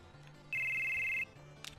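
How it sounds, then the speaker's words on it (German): A PHS mobile phone rings in Final Fantasy VII: a single steady electronic ring tone lasting under a second, loud and clean, over quiet game background with no talking. "Da klingelt das Telefonchen, das ist das PHS."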